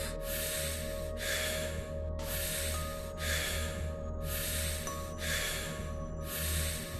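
Deep, forceful breaths in a breathwork meditation session, seven broad rushing breath cycles in steady rhythm, close and loud over a continuous low hum.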